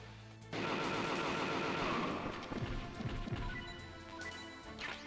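Rapid gunfire erupts suddenly in Metal Gear Solid as Meryl shoots guards, a loud sustained burst of shots with crashing impacts, then tapering into scattered rounds; no talking.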